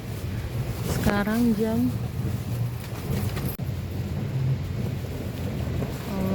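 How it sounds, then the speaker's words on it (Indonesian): Strong wind roars steadily against a tent while camping on a hilltop on New Year's Eve, with a continuous gusty rush and flapping, while a person talks briefly partway through. "Anginnya sekencang ini, tuh tenda kita goyang."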